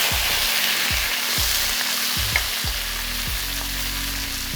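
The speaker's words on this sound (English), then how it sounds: "Then we're going to add our shrimp. We're going to cook it first, then set it aside." Shrimp frying in a pan for special fried rice, a steady loud sizzle with occasional stirring clinks and scrapes, close up with no talking.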